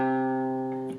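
Single guitar note fretted at the third fret of the A string, sustained with rich harmonics and slowly decaying over about a second, with a faint touch of noise at the end.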